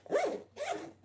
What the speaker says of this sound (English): you'll notice this zipper is like kind of a challenge to open